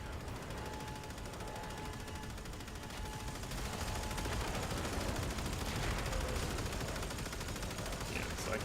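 Sustained rapid weapon fire in the sci-fi shooter Warframe, a dense stream of shots that grows heavier about halfway through, at moderate level with faint game ambience and a thin tone underneath.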